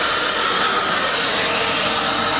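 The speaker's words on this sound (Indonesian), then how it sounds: "Dimana kalian dapat hair dryer sekencang ini, secepat ini ngeringinnya." A hair dryer blows hard and steady at close range, a loud continuous rushing whoosh with no break or change in pitch and nobody talking.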